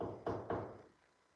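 Two dull knocks come in quick succession in a quiet old house during a ghost hunt, faint and muffled as if from another room.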